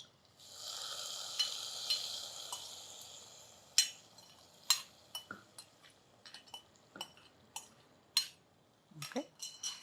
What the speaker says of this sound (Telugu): కిస్మిస్ జీడిపప్పు దోరగా వేగిపోయినాయి